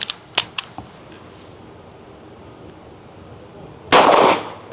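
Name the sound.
pistol shots at a steel gong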